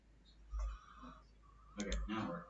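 A computer mouse gives a couple of sharp clicks during GIS mapping work, close and fairly quiet, with soft talk and room noise around them.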